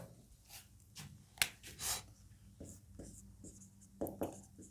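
Marker or chalk scratching out a topic on a classroom board during a Class 9 physics lecture, several short strokes and taps in quick bursts, close by, with a quiet room hum behind and a voice in between.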